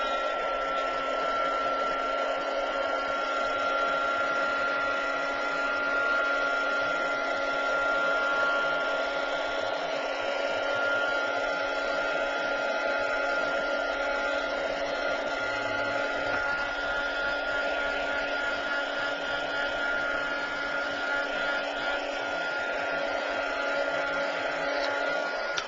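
A heat tool drying a Distress Ink background on paper blows with a steady, loud, unbroken whirring hum for the whole stretch, close up and alone.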